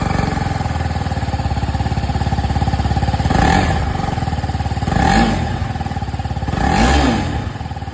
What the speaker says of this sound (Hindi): अब मैं आप लोगों को यहाँ पर आरआर 310 की जो आवाज़ है ये भी मैं आप लोगों को सुना